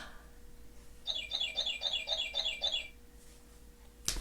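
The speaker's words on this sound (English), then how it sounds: "there's my bird." A pet bird chirps indoors in a quick series of about six bright, even-spaced calls, fairly faint against a quiet room hum, then falls silent before a brief sharp click.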